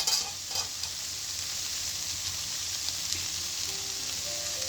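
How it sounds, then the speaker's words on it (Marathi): Mixed vegetable bhaji with pumpkin and grated coconut is stirred in a pan, giving a soft, steady sizzle with faint scraping and a few light clicks near the start, with no speech. "खोबरं घालून भाजी ढवळून घेऊ।"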